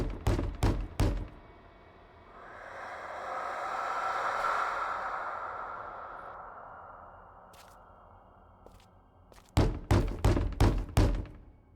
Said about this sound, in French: Toc toc. Qui est là?